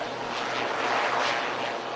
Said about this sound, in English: as the aircraft concludes its aerial display